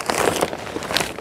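A plastic bag holding cement is handled and shifted, giving close, loud crinkling and rustling in quick irregular bursts across a second or so, with no talk.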